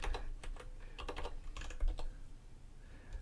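Quick bursts of typing on a computer keyboard, clustered clicky keystrokes with short pauses between runs, close and fairly quiet.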